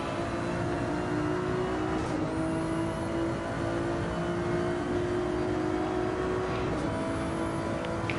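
GT2 and GT3 race cars in a racing video game at Yas Marina hold a steady, droning engine whine at high revs, several cars bunched together with pitch shifting slightly as they run side by side; no talk.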